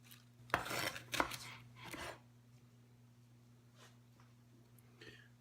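A knife chops limes on a cutting board in a home kitchen, three sharp, close clunks in quick succession, then a few faint taps against a quiet background with a low electrical hum.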